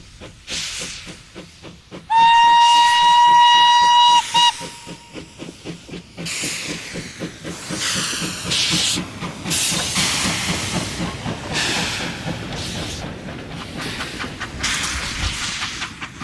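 A heritage steam locomotive on a French tourist railway, loud sustained hissing of escaping steam with rhythmic chuffing, a brief whistle blast early on, then continuous roaring exhaust close by.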